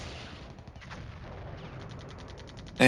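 Artillery fire in the Cold War wargame Flashpoint Campaigns: a steady low rumble of distant shelling with faint rhythmic clicks, then a sudden loud, sharp blast right at the end.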